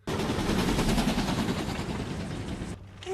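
Gunfire in a Harry Potter film scene: a loud, sustained, rapid rattling barrage lasting nearly three seconds, then cutting off abruptly.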